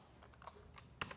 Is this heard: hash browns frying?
no